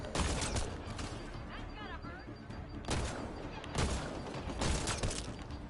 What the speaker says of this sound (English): Wow, our pistol is doing some damage now.